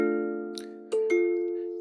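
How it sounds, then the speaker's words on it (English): Kalimba-like plucked tones from a physics-based wind chime MIDI app on an iPad: one sustained ringing note with two soft plucks added over it, each note clear and decaying, and no voices. "it's playing like a kalimba sound, which is pretty close to a wind chime"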